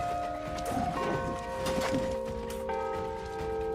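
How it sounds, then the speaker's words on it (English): A bell tolls in New World: Aeternum, sustained ringing tones layered over clattering game sounds, a second strike arriving partway through and lingering to the end. "Ding dong, ding dong."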